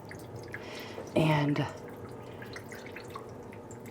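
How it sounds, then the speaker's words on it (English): Water drains and drips from a raw turkey being prepared for roasting, a short burst of splashing liquid lasting about half a second, loud and close, with faint room noise and a brief spoken word. "So now I'm just letting all the water drain out"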